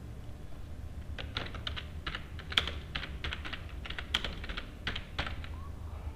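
A computer keyboard is typed on in uneven clusters of soft, close clicks during Java programming of a hand cricket game, with brief gaps between keystroke runs and no voices.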